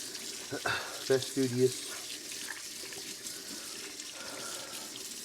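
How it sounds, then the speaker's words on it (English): Water runs from a tap while hands are rinsed under it, a steady hiss with splashy bursts as the hands move through the stream, close by, and a voice speaks briefly over it. "rinse this off of my hands"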